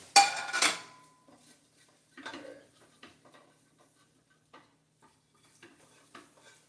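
Plates clattering and cutlery clinking by the sink and stove while eggs are being cooked, starting with a loud crockery clatter and followed by sparse, scattered clinks and knocks, with no talking.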